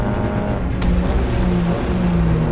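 Formula 4 race cars at Homestead circuit in Florida, engines droning steadily at high revs with a dense, continuous roar as the cars run past, no talk.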